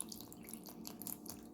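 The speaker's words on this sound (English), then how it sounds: "Now I will add the distilled water." Distilled water poured from a vessel into honey for mead, a soft continuous trickle and splash with faint dripping, fairly close and steady for a moment, no talking.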